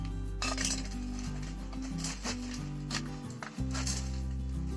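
Crispy fried okra pieces clatter and tinkle into a serving bowl in a few quick bursts, over a steady low background hum.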